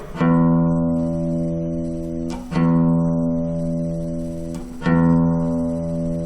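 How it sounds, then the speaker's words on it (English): A guitar's low E string is plucked three times, each note ringing out steadily with rich overtones and slowly decaying before the next pluck. "tune the low E string, or listen to the sound of my string in this video"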